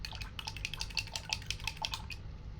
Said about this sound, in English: I'm gonna wash my brush.